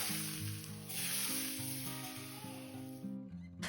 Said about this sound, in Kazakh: Және қызып тұрған ыстық майымызды осы салаттың үстінен